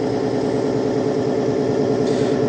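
Bi-Tron lubricant test machine running steadily under applied pressure, a loud, dense mechanical whir and grinding drone close by, with a slight rise in harsh upper noise near the end.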